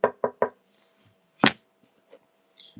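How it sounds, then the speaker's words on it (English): Knuckle knocks on the wood of a 1990 Tony Hawk Powell-Peralta medallion skateboard deck: three quick raps, then a single louder knock, each ringing briefly with a faint sustained tone, close and clear. "The way it rings out when you knock on it, that's a really good sign."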